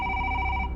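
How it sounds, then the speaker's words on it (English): A telephone rings steadily with a bright electronic tone held for the whole short moment, loud and close, with no voices. "the phone rings."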